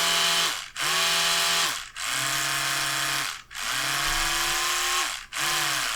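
An electric toothbrush running in brushing mode, a loud steady buzzing whine that cuts off briefly about every one and a half seconds in a regular pulsing pattern, close up with no talk.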